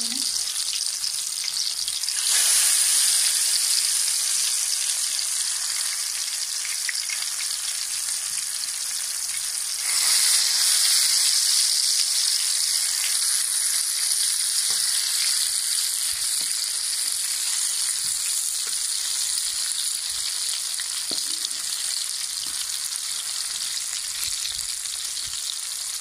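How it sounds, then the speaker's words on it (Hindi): Hand-shaped pakoras frying in hot oil, a loud, continuous close-up sizzle that swells as more batter goes in, sustained for a long stretch with no talking. "ऑयल गर्म हो चुका है। अब हम इसमें हाथ से इस तरह इनकी शेप बनाएंगे"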